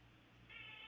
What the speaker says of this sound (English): My cat is down here, and he's making terrible I noise.